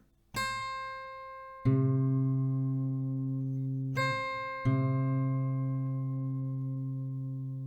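Plucked acoustic guitar strings ring out in pairs, the D string tuned down so the second note settles toward the first's pitch, each sustaining and slowly fading with no talking.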